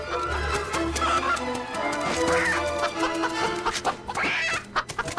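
Chicken clucking in the video game Fable III, a few short clucks over continuous game music and background sound, with no talking.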